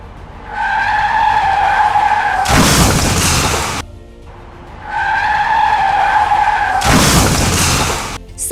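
Loud tire skids from a speeding car at a roadside junction, two long screeching bursts each ending in a harsh broadband crash-like roar, repeated twice with no talk.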